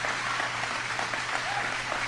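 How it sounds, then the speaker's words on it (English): A large crowd claps and cheers in a dense, continuous wash of applause that holds steady throughout. "They're still cheering."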